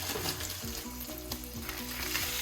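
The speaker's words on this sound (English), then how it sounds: "press it down. It's gonna sizzle" A smash burger patty hisses and crackles on a buttered hot surface as it is pressed flat, a steady close sizzle with scraping and clanking underneath and no talking.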